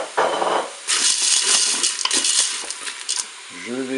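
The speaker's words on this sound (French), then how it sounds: "Je vais maintenant ajouter mes macaronis" Dry macaroni pours into a Cookeo multicooker pot with salmon, a dense rattling clatter of hard pasta against metal lasting a few seconds, loud and close, then settling as a short voiced sound follows.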